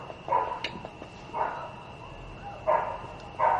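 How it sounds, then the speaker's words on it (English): A dog barking indoors, four separate sharp barks spaced irregularly at moderate distance over a quiet room background with a faint steady electrical whine. "Of course, the dog is barking."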